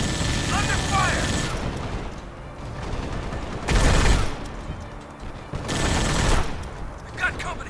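Bursts of gunfire from the video game Halo: Spartan Assault, several loud volleys separated by brief lulls over a dense background of game sound, with voices talking.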